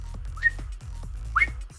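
A person gives two short whistles, each a quick rising chirp, over a low rhythmic thumping background.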